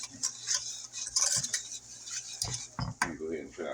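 Metal spoon scraping and clinking against a pot while half a cup of granulated sugar is mixed in, a run of close, irregular bright scrapes and taps with a few heavier knocks.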